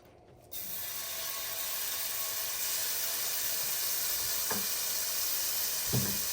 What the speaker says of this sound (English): Here we are with a nice hot saute pan. Gonna put in the garlic butter first,